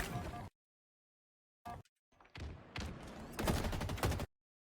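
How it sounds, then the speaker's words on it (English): Gunfire shooting through a wall in Halo Infinite, heard from the opposing side in a team battle: a short burst, silence, then a run of rapid shots that grows louder before cutting off abruptly. "This is what it looks like from the opposing side when you actually shoot them through a wall."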